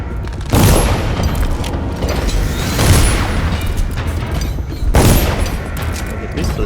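Booming gunfire in the video game Dishonored, with repeated heavy blasts swelling about every two seconds over a constant loud rumble of game noise, close and dense.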